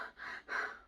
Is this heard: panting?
yes